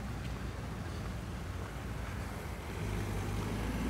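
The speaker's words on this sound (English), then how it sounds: "Oh, traffic's building up" Steady low rumble of road traffic passing through an English village, a continuous broadband wash of engines and tyres with wind noise, swelling slightly louder toward the end.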